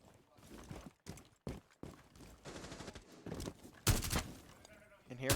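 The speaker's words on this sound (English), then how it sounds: "And here comes Passion, firing away" Gunfire in Rainbow Six Siege during a collegiate varsity esports match, irregular bursts of shots, some sharp and close, mixed with footsteps and other game sounds under commentator talk.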